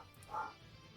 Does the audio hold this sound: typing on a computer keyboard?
no